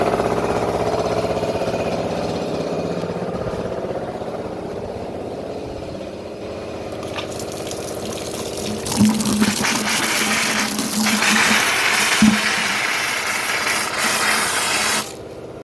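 A household electric motor runs steadily with a gushing, water-like rush and faint mechanical ratcheting; the sound swells and grows brighter partway through, with a few clunks, and no one speaks.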